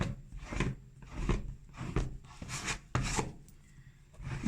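A tool dipped in Mod Podge smoothing glue around a wreath board, a series of soft rubbing, rasping strokes, about eight in a steady rhythm, close and quiet.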